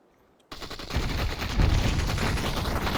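An AK rifle in the VR shooter Population ONE opens up suddenly and keeps firing in a loud, sustained burst of rapid automatic shots that fills the rest of the moment.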